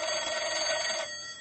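An old-time radio drama telephone rings with a bright, continuous metallic bell trill that holds steadily for about a second, then cuts off to a fainter tail, heard alone without voices.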